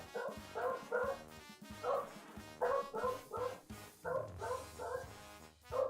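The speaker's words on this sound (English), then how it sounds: "I guess let me go double check what my dog is freaking out about." A dog indoors gives repeated short barks and yips in uneven bursts, with whimpering between them, fairly close but at modest volume, and no one speaking.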